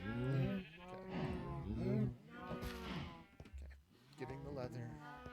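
Several cows in Minecraft moo repeatedly in drawn-out, overlapping calls that sound close and fairly loud. A person speaks briefly between the moos.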